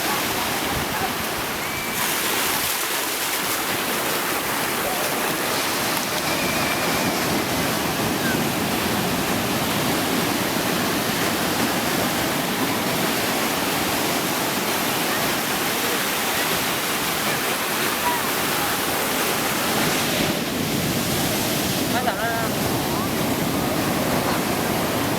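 Sea waves break at the shore in a constant, loud, broad rushing roar that swells a little but never drops out.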